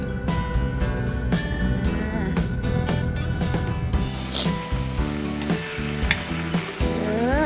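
Crispy pork is stir-fried with holy basil in a hot pan, a loud continuous sizzle with scraping stirs, as music plays under it throughout.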